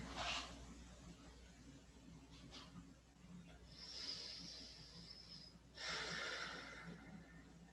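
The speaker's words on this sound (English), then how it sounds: "We'll take just 3 more breaths." Slow, deep breaths during a gentle yoga session, with soft hissing exhales and inhales rising and falling in a few long waves, close and quiet, with no talking.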